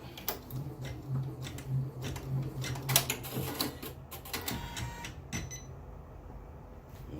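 A Janome MB4 embroidery machine stitches an applique design, giving fast, uneven mechanical clicking and tapping with a low steady hum underneath, close by and moderately quiet, followed by a quieter tail.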